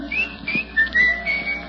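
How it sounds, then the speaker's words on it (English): A person whistles the melody of the song Pale Hands, a clear, close, lilting tune of several sustained and sliding notes with no talking over it. "What are you doing whistling Pale Hands?"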